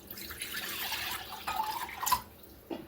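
Beef broth and au jus mix pour from a container into a crock pot, giving a loose, splashing liquid stream with dripping that swells and trails off over a few seconds, close and fairly quiet.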